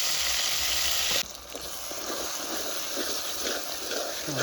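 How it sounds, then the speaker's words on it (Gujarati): Frying garlic hisses loudly in oil, then mashed roasted eggplant goes into the pan for a Gujarati baingan bharta, and the sharp sizzle drops at once to a softer, steady crackle that keeps going, with no talking. "લસણ એકદમ પીળું થઈ જાય પછી નાખી દેવાનો માથે ઓળો."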